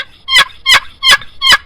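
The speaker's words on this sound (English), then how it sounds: "this is a butternut box call. It's a replica of the Neil Cost call." Butternut box turkey call with a cherry top, a replica of the Neil Cost call, producing four loud, evenly spaced raspy yelps close up, with no other sound around them.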